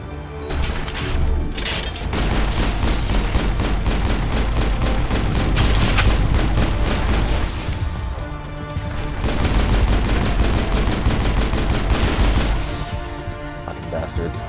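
Assault gun fire in the Mass Effect video game, dense rapid bursts of shots and impacts sustained almost without pause, loud and close, with a short break near the middle.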